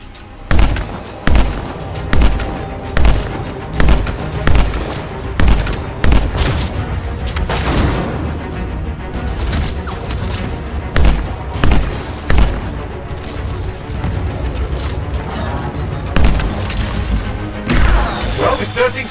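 Rapid bursts of gunfire and heavy booms from an ambush in the video game Anthem, with repeated volleys, thuds and crashes throughout and voices talking over the combat.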